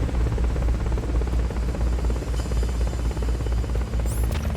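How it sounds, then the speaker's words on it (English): A helicopter in Metal Gear Solid: Peace Walker drones loudly and continuously, its rotor pulsing in a rapid low chop with a buzzing hum, plus brief electronic game chirps near the end. "the damn chopper just annihilates me"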